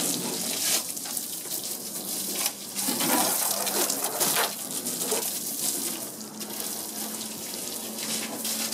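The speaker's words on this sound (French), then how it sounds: "toujours mouiller la carrosserie pour enlever la poussière" A water spray rinses a Teflon-treated car's bodywork before shampooing. It hisses and gushes continuously for about nine seconds, close and fairly loud, rising and dipping as the stream moves across the panels.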